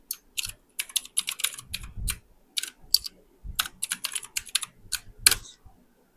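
Keystrokes clatter on a computer keyboard as C code is typed, coming in quick irregular bursts with short pauses between them, close and fairly quiet, with no voices.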